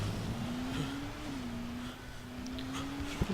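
A car engine in Dying Light: The Following, the vehicle running with worn-out suspension, holds a steady moderately loud droning hum that dips slightly and then rises again, with a sharp knock near the end.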